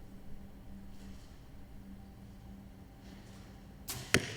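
A compound bow arrow released in a junior women's team gold final, heard as a single sharp, brief snap and thwack at the very end after a quiet stretch of faint outdoor ambience.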